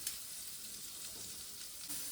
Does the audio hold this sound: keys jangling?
no